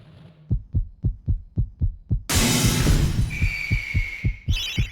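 A slow, deep heartbeat pulses rhythmically from the stained glass demon in the game MediEvil, its low thumps steady and distinct, then joined by a loud burst of noise and a ringing tone before the beating continues.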